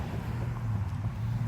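Road traffic passing a front yard garden: a low, steady vehicle rumble drones in the background, faint and continuous, with no distinct pass-by.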